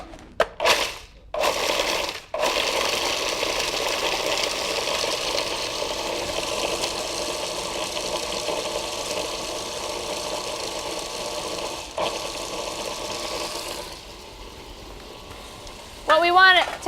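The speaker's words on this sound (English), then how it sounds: "I'm just going to grind this up." Kitchen appliance grinding pitted fruit with a little vanilla, a sustained rough whirring roar after a few short start-stop bursts, running loud and steady before easing off, then a brief final burst at the end.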